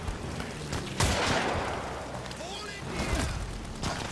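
Gunfire from the Amnesia: The Bunker video game, with a sharp burst near the start and another later, ringing out loud and close amid rumbling, echoing tail noise.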